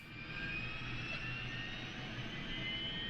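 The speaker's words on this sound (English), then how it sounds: "you can hear the APU still coming up" Auxiliary power unit of an A310-300 airliner spooling up in Microsoft Flight Simulator, a steady loud jet whine with a high tonal hum and broad rushing roar, continuous and unchanging throughout.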